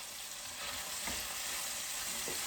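Chicken pieces sear in a hot pan for coq au vin, giving a steady, soft broad sizzle with a couple of faint low bumps as pieces shift.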